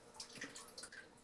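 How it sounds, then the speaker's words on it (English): Excess water draining off a papermaking screen holding freshly formed cattail pulp, a faint, close patter of drips and trickles with no talking. "just draining off the excess water"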